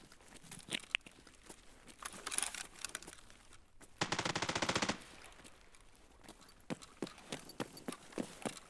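Gunfire rings out in a video game, with scattered sharp shots and a dense rapid automatic burst in the middle, followed by more irregular single reports.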